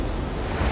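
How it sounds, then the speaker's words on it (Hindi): A large ocean wave crashes in near an island's rocky shore, a brief loud burst of broadband surf rush with no voices. "ये आई बड़ी लहर।"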